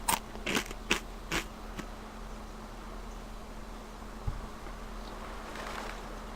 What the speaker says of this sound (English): Just the sound of that crunching rice is disgusting